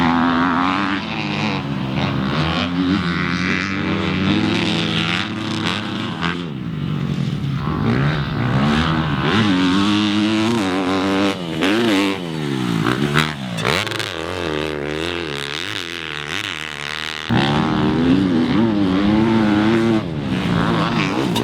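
A 2014 Yamaha YZ250F motocross bike ridden at Glen Helen track, its loud four-stroke engine revving up and down through gear changes, rising and falling whines with brief throttle cuts, close and continuous with no talk.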